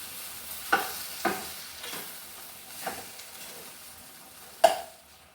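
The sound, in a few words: tapioca being stir-fried in oil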